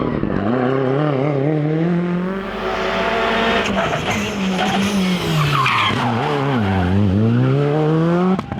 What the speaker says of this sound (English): driving his Skoda in a beautiful way